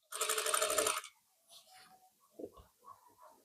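A sewing machine runs fast for about a second, stitching the corner of a blouse back neck with a steady rapid whirring chatter, then stops, leaving quiet handling of fabric.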